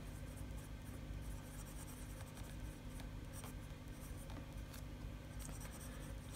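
A fountain pen writes on paper with faint, continuous scratchy strokes in a quiet room.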